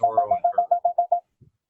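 A phone's parking app alert: a rapid run of about nine evenly spaced electronic beeps, close and clear, then a faint soft blip after a short gap.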